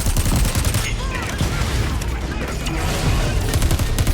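Relentless robot gunfire in Crackdown 3, a dense, continuous fusillade of rapid shots with booming impacts, loud and close throughout.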